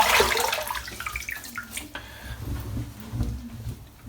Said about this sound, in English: Just going to wet my face